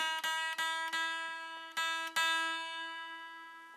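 A guitar's low E string plucked five times during tuning, each note ringing and decaying, the pitch held steady as it rings out at the end.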